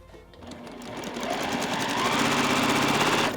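A sewing machine stitches quilt block pieces in a steady, fast mechanical whir that builds gradually to a constant close hum, with no talking over it.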